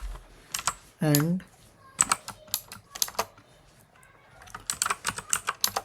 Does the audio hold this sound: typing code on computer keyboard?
yes